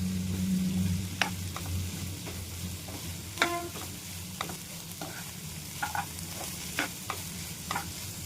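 Paneer pieces being stirred into cooked vegetables in a pan, with a steady sizzle under scattered scrapes and clicks of the spoon against the pan.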